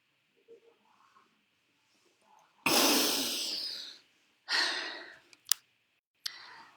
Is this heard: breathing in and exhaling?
yes